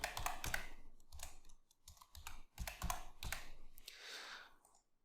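Computer keyboard typing, close and alone, as an old admin username and password are entered at a MikroTik router login, coming in quick bursts of clicks with short pauses between them.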